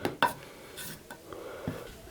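A Blue Ribbon cast iron muffin pan being worked over during seasoning, with a few light metallic clinks and knocks and soft rubbing scuffs, close by and fairly quiet.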